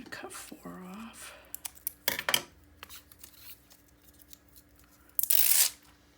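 Scissors snip black gem embellishments from a sheet for a mini album. Close, crisp cuts and a crunchy tearing burst come between faint handling noises, with a brief voice at the start.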